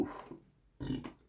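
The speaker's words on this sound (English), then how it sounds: "sorry about that burp" A man's burp, a short low throaty belch that comes on suddenly after a quiet stretch, loud and close, with a second brief bump right after it.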